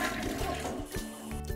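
A toilet flushes with a full rushing gurgle of water that stays strong and close for over a second before tapering slightly, with no voices.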